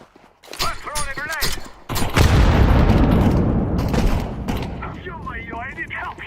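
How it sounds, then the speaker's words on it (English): In Counter-Strike 2, a loud grenade blast booms and rumbles for several seconds, with sharp gunshots before and after it and excited voices talking over the action. "I'm throwing a grenade. I'm shooting."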